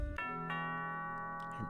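A doorbell in the video game Judge Sim rings a clear two-tone ding-dong chime, tones ringing and sustaining cleanly and fairly softly with no talking over them.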